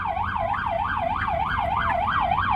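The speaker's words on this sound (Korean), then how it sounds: "앰뷸런스 비켜주는 거야 지금" An ambulance siren wails in traffic, a steady rising-and-falling yelp repeating every few tenths of a second over a low rumble of car noise, loud and close throughout.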